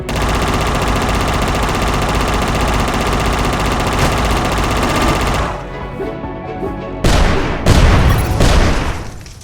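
Machine-gun fire rattles loud and continuous in the video game UnMetal, then cuts off and gives way to several heavy explosive booms and bursts near the end.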